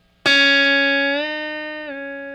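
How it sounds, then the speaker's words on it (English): Electric guitar note plucked, then bent upward in two steps by pulling a whammy bar up on a Wilkinson locking bridge, a single sustained tone rising in pitch, clear and close. "when you pull the whammy bar up all the way, it should be a D sharp"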